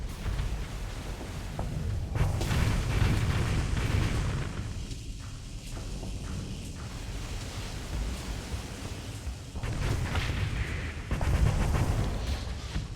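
Massed missile strikes pound enemy ships in the space combat game Starsector: a continuous roaring wash of explosions, heavy throughout, easing for a few seconds mid-stretch before surging again in loud bursts.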